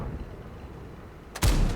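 Leopard 1 tank gun firing in the World of Tanks video game: a single sharp, loud boom near the end, following a stretch of quiet low rumble.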